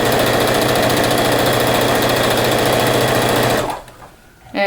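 A sewing machine runs steadily, stitching seams through a flannel rag quilt, its loud, even motor whir carrying on for several seconds before stopping abruptly, then briefly starting again at the end.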